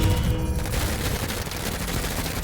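A burst of game gunfire in the turn-based tactics game Menace, with pirates engaging in a desert: a short, steady rattle of shots fills the whole moment, loud and close with no pauses.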